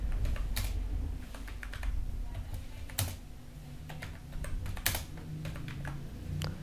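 Typing on a computer keyboard while filling in an online form: a steady run of quick, close key clicks with a few sharper, louder strikes, over a low background hum and no talk.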